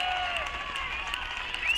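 Applause and cheering from teammates at an NCAA college tennis championship match, a dense continuous wash of clapping with faint whistles, steady for the whole short stretch.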